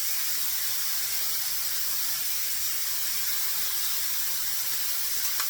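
Mushroom Swiss burgers sizzle on a Vevor griddle, a loud, steady, close hiss of frying meat that carries on without a break and with no voices.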